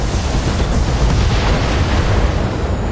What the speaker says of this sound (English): Ammo explosion.